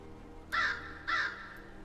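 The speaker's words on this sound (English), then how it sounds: "Because they're crows." Crows in a video game give two harsh caws about half a second apart, loud and close over a quiet steady ambient bed, with no speech.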